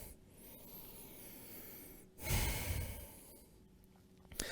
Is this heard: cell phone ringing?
no